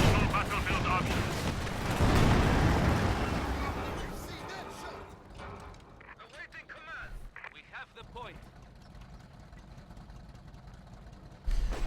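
Sustained dense gunfire and explosive bursts from a Company of Heroes 2 battle, loud and rumbling through the first half, then thinning to scattered machine gun rattles and clatter under a commentator's voice.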